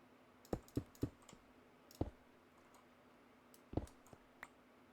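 Rapid mouse clicking while playing Minecraft, several sharp close clicks in quick clusters with gaps between, quiet and isolated against a faint background hum.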